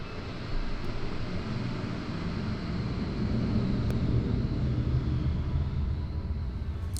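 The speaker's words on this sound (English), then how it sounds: "shout out to the pilot flying your airplane over my apartment complex while I'm recording MSL videos" A steady, broad low rumble from an airplane flying over an apartment complex fills the whole stretch, holding even and fairly loud with no voices over it.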